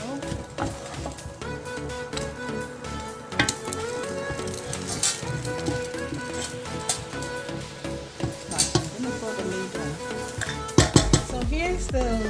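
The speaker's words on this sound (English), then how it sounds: "I'm just going to give it a little stir before I will introduce the tomatoes" A spoon stirs leftover turkey stew in a pot with onions and seasoning, giving steady scraping and clinking against the metal, with a soft sizzle and a few louder knocks near the end.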